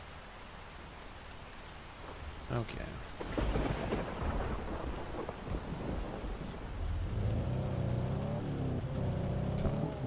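Steady rain and rolling thunder fill a storm scene in the storm-chasing video game OUTBRK, with a loud crack partway through and a low rumbling hum beneath; a voice speaks one brief word.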